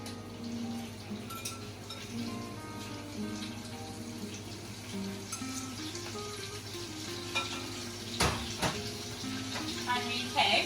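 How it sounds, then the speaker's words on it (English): Fresh king prawns frying in hot olive oil in a pot, a steady soft sizzle with occasional louder crackles and stirring clatter toward the end, with faint voice-like tones in the background. "When our olive oil starts to get hot, we're gonna put our prawns in."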